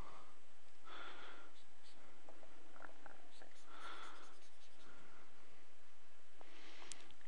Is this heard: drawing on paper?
yes